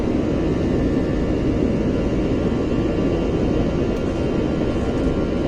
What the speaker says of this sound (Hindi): Taking of from Skardu.